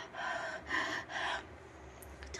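Heavy panting and gasping for breath after running, three strong ragged breaths in quick succession, then quieter, close to the listener with no talk.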